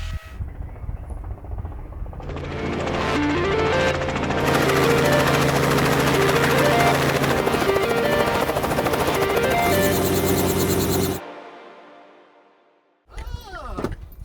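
A helicopter's engine and rotor build to a loud, steady roar as it lines up on a countryside landing strip, then cut off abruptly before a brief burst of clatter.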